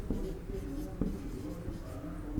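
A teacher writes with chalk on a board during a biology lecture, quick scratchy strokes and taps in an irregular rhythm, close and fairly quiet, with a faint room murmur.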